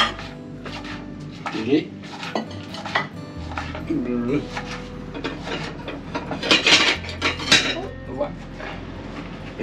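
Vegetables being cut for omelettes in a kitchen in Morocco: repeated knife taps and clinks on a board and dishes, near and fairly loud, with brief voices speaking in between.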